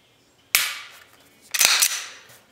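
Two sharp snapping clicks from an FN FNS 9 pistol: a dry-fire trigger break, then about a second later the trigger reset click with a brief rattle, both close and crisp with no voices.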